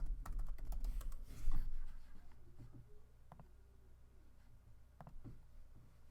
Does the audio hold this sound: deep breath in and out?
no